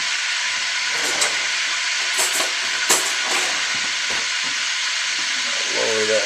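Whipped eggs with a splash of milk frying in a pan on a stove, giving a steady close hiss and sizzle with a few light clicks and stirring scrapes throughout.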